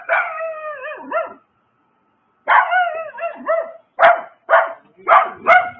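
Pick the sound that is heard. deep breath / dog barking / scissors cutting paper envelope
dog barking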